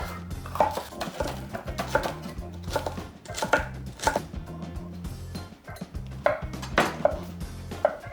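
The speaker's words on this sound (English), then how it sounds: "I'm going to cut a third of a yellow pepper and a third of a red pepper" A knife chops yellow and red bell pepper on a cutting board in quick, steady strokes, a crisp rhythmic series of close knocks continuing throughout.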